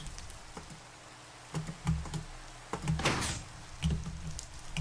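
A wooden door in Minecraft clacking shut, with several short knocking taps scattered through the clip and one louder, brighter burst near the middle, with no talking.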